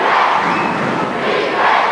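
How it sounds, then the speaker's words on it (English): A large arena crowd at the 1991 basketball All-Star Game chants defence in unison, a loud, sustained roar of voices that swells and dips rhythmically. "The crowd are shouting defence, defence"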